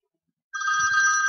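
A basic phone ringtone starts abruptly at full volume on an iPhone, a steady loud electronic ringing tone sustained after a moment of silence.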